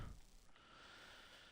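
An asthmatic man breathes heavily in a quiet room, a faint, steady rasp of air drawn in and pushed out with no words over it.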